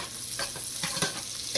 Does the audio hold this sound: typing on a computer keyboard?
no